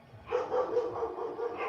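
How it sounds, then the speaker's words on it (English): An excited dog barks and yips in a quick, continuous run of short bursts, moderately close and fairly faint, with no one talking over it. "Dog is going crazy."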